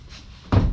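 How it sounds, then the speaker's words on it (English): A car door on a Valino 180 is opened at home during a wheel alignment, making a single close, solid thunk after a quiet start. "So normally open the door,"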